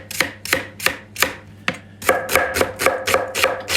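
A knife chops onion or leek on a board in quick, steady strokes, a dozen or so crisp close taps, starting at a measured pace and then speeding up.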